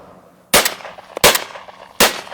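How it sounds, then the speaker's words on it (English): Three sharp shotgun blasts from an ATA Venza Fonex firing Driven Grouse 25 g number 6 shot game cartridges, loud and close, spaced unevenly with brief quiet gaps and ringing tails between them. "Another really nice game load is the Driven Grouse, and this is 25 grams of number 6 shot."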